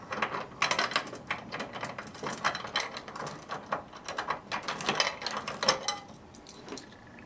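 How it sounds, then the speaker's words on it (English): Metal key turning in the lock on the top of a Rhino Vending gumball machine, a close run of dense clicks, rattles and ratcheting mechanical clacks that taper off into quiet at the end. "take your machine key and unlock the top"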